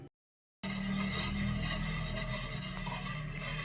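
Taho mixture stirred in a pot on a stove as it heats and thickens, a steady close scraping and swishing with faint sizzle running continuously after a brief silent start.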